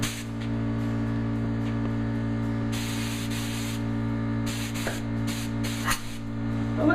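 A spray gun lays clear coat onto a kitchen cabinet, giving a steady close hiss over a constant background hum, with short bursts where the spray rises louder.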